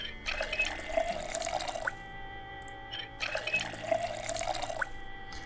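Water gushing from a tap into a bottle in the Project Zomboid video game, two identical bursts of splashing fill, each about two seconds with a short pause between, close and steady, no talking.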